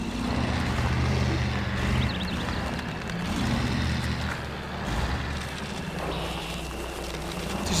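A UAZ off-road vehicle's engine rumbles continuously and coarsely in the Spintires game on a coastal map, staying at a steady loudness with slight surges and no talking.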